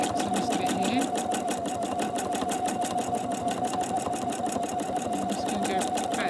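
Sewing machine stitching boat fabric, a steady, fast mechanical whirr with an even rapid needle rhythm that runs without a break, close and loud, with no talk over it.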